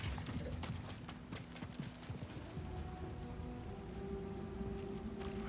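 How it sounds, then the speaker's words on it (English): Footsteps from other characters in the Star Wars Jedi: Survivor video game, a steady run of soft clip-clop steps at moderate distance, layered over a constant ambient rumble and low hum with no talking. "Footsteps other than mine."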